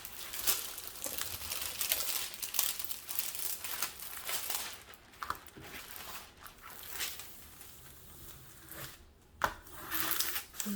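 Crinkling and crunching of a creased plastic sheet being worked back into place, close and fairly loud, with irregular bursts of crackle and short pauses throughout.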